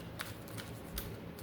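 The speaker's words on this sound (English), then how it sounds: "We're going to shuffle this one." Tarot cards being shuffled by hand, a quick run of soft riffling flutters with a few sharper snaps, close and continuous over a steady background hiss.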